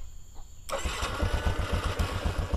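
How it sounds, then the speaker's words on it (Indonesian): A motorcycle engine cranks and catches after a quiet start, switched on by an Arduino RFID and voice-command system, then settles into a loud, steady, throbbing idle close by. "Start the engine."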